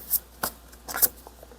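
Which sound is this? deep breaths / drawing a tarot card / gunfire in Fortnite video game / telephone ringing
drawing a tarot card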